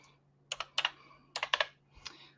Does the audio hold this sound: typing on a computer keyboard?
yes